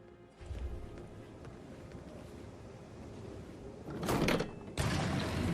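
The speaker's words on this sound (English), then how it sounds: "A hidden door. It's a secret passage." A hidden secret passage door in Hitman 3 opens inside a family mansion, a low rumbling slide under ambient wind-like noise, building to two bright scraping bursts near the end, moderately loud and close.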